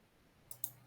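A computer mouse clicked twice in quick succession, faint and close, against a quiet background hum.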